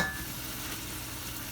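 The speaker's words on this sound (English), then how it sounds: "We're going to sear, okay? We're going to sear." Oxtail searing in a pan, a steady loud close sizzle and crackle of frying meat with no pauses.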